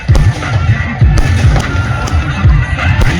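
Firecrackers set off in celebration of a village cricket final win, a close, loud string of sharp rapid pops crackling steadily throughout.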